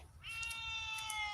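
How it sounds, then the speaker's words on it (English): A wild-ish striped tomcat, not yet neutered, lets out a drawn-out, wavering yowl that rises and holds for over a second, fairly close and alone with faint background hum. "the cat is hollering in distress."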